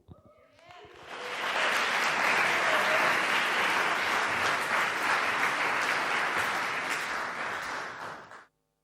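A conference audience at a PechaKucha night breaks into sustained applause, rising quickly to a full, dense wash of clapping that holds steadily for several seconds before tapering off abruptly.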